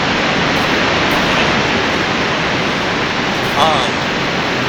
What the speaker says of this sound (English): That waterfall is so good.